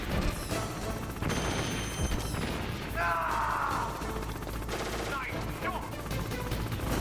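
Gunfire in the video game Metal Gear Solid: dense, loud bursts of rapid shots and metallic clatter with crashing impacts, continuous over a busy, noisy background.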